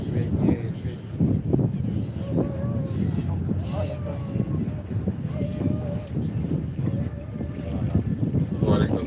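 Steady wind rushes over the microphone on a boat cruise at Yellow Water in Kakadu, a continuous broadband roar with faint bird calls and a low engine hum beneath it.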